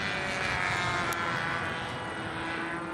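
An E-flite Scimitar Carbon-Z RC plane circles overhead, its electric motor a thin steady whine held at moderate distance over constant wind noise, with no voices.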